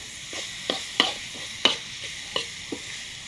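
Thai pork basil stir-fry being stirred in a hot pan, with repeated spatula scrapes and clinks over a steady sizzle, close and moderately loud, no talking.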